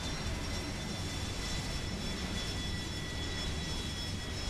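Steady broad engine roar of an aircraft slowing down to land on a runway in War Thunder, a constant, fairly quiet drone with faint high whine tones and no talking.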